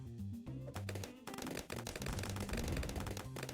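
A Dartling Gunner in the video game Bloons TD 6 fires rapid, dense bursts of darts that rattle like a machine gun, loud and continuous over steady background game music.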